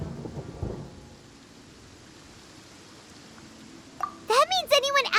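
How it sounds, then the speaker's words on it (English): A low thunder rumble rolls through steady rain hiss in the video game Genshin Impact, with a brief burst near the start and character voices speaking over the storm toward the end. "Paimon hears thunder!"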